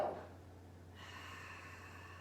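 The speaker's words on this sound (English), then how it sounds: "Breathe in, filling up the lungs to capacity. Open mouth, exhale." A single deep exhale through an open mouth during a yoga breathing exercise, a short breathy rush at the start that fades quickly into quiet room tone.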